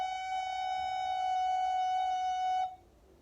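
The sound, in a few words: recorder playing a long F sharp note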